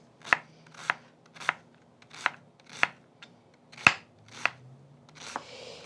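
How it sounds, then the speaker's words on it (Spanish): A knife chopping an onion on a cutting board in a kitchen: about nine sharp, evenly spaced chops at close range, with no talking over them. "Ahora sí, picamos la cebolla."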